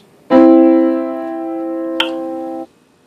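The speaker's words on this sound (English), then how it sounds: "Thirds skip to the next line or space and sound like this." Two notes a third apart ring together as a sustained harmonic interval, loud and steady for about two seconds with a small click midway, then stop cleanly.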